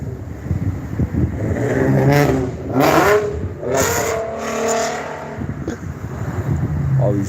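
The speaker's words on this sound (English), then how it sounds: "All these race cars and" Race cars rev their engines out on the street, a loud revving engine swelling and falling in several surges close by, with a rough clattering undertone and a faint voice.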